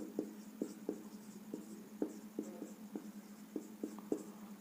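Chalk or marker writing on a board, a run of quick scratchy strokes and taps in an uneven rhythm, close and faint with no voices over it.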